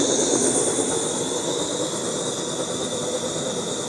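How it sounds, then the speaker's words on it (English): A steady, close roar from an Optimus Vega camping stove burner running at high heat in cold mountain conditions, an even rushing hiss with no breaks and no voices. "So that is the Optimist Vega stove."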